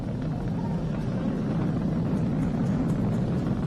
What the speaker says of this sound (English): We've exceeded Mach 1 on the Falcon 9.